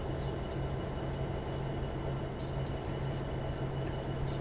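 A diesel freight locomotive in the Train Simulator 2020 game runs steadily through Cajon Pass with older locomotives being taken to scrap, giving a continuous loud engine drone and rolling rumble with a low steady hum and faint clatter.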